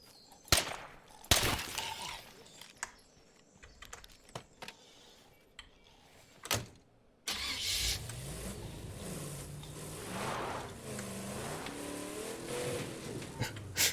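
A car driven in the zombie survival video game State of Decay 2: scattered clicks and thumps give way to a steady engine drone that rises and falls with revving, fairly loud and continuous over the last half.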